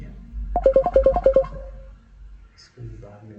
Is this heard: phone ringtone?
yes